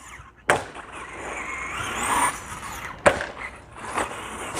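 A Traxxas Stampede 2WD RC truck drives on rough ground, its motor whining and its tyres scrabbling. Two sharp clattering impacts come as it flips, close by and with no talking.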